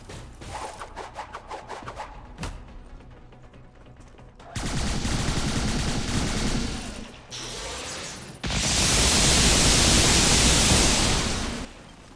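Gunfire aimed at a biotrooper in XCOM 2: a loud burst of dense noisy shots after a quieter opening, building into sustained heavy fire over the last few seconds, with no talk.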